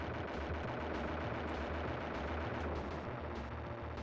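Sustained video game gunfire, a dense rattle of rapid shots blending into a continuous loud barrage with no clear gaps.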